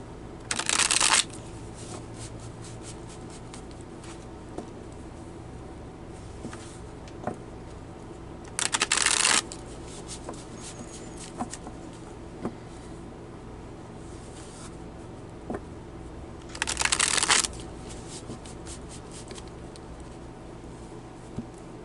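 Tarot cards being shuffled, three bursts of quick, crisp riffling roughly eight seconds apart, with quieter card handling, taps and small clicks between them, close and otherwise still.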